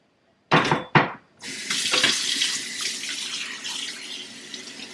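A turkey breast is rinsed under a kitchen tap: two short splashy bursts, then a steady stream of running water hisses into the sink, close and fairly loud.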